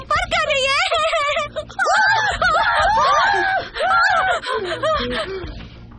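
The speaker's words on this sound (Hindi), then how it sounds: "क्यों चिल्ला रहे हो?" A woman screams loudly and repeatedly in a Hindi-dubbed Korean drama scene, high wavering shrieks and gasps layered over one another, close and intense across the whole stretch with brief pauses between outbursts.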